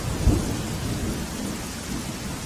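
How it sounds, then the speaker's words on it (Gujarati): Heavy downpour in Manavadar, Junagadh, a dense constant roar of rain with a low thunder rumble near the start, no voices. "માણાવદરમાં ધોધમાર વરસાદ પડ્યો છે"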